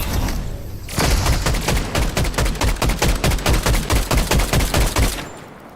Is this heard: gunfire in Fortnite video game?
yes